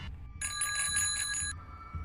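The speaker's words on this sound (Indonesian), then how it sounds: "Sengaja aku bunyikan bel sepedaku untuk menandai bahwa aku telah berangkat" A bicycle bell rings in a quick rapid trill for about a second, bright and close, between quiet stretches.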